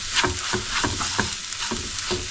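Onions, tomato, ginger and garlic sauté in a pan for chickpea curry, a steady close sizzle broken by regular scraping stirs about every half second.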